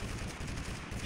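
Dense, continuous gunfire in a shootout in the video game TABG, loud and sustained for about a second, with overlapping bursts and no talk.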